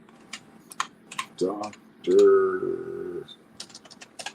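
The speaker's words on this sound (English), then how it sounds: "I hate typing with one hand." Typing on a computer keyboard with one hand: scattered, irregular key clicks, close and fairly quiet, with a voice speaking briefly over them midway.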